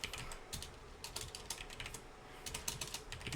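Quick, irregular clicking of keys on a computer keyboard, close and fairly quiet, with steady bursts of typing and no voices.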